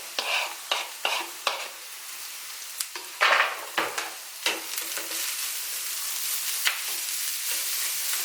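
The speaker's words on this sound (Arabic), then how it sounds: "نخليهم تيتشحروا شويه مزيان ويهبطوا" Chopped onion and zucchini fry and sizzle steadily in a pan, with a run of sharp scraping stirs early on and a continuous hiss throughout, no talking.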